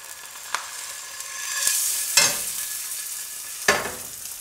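Eggs fry in a HexClad pan over a medium flame, with a soft continuous sizzle and several sharp scraping stirs from a utensil against the pan surface, close and clear, with no talk.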